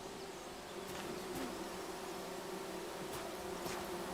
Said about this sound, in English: Oh, bees, bees, bees.